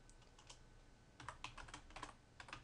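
Fingers typing Arduino code on a computer keyboard, quiet close clicks in uneven bursts with a short pause, then a faster flurry of keystrokes.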